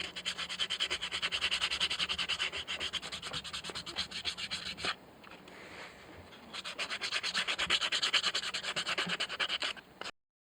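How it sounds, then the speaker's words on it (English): A handmade wooden fishing lure is sanded smooth by hand in quick, close back-and-forth strokes of steady rasping, broken by a short pause midway before the sanding resumes. "Now I'm gonna sand it down, make it smooth"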